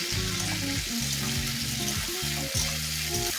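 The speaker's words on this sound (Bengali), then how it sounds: "নুন চিনিটা দিয়ে আবার একটু নাড়াচাড়া করে নেব" Potato curry frying in a pan with salt and sugar added, stirred steadily; a continuous loud sizzle with repeated scraping strokes of the spoon, no talk.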